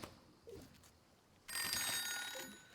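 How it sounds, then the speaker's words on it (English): In the cozy tea-making video game Wanderstop, an alarm bell rings in a sudden bright, shrill burst that keeps on steadily after a few quieter soft sounds. "Is my phone ringing? What's happening right now? Or is that just like an alarm that the tea leaves are dry?"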